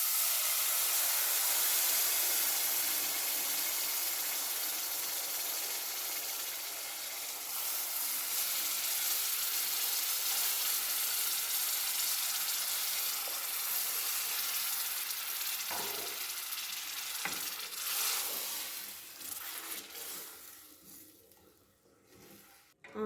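Water poured into semolina roasting in a pan for suji halwa, a loud, steady sizzle and hiss that lasts a long while, then thins and sputters as it settles, with no talk over it.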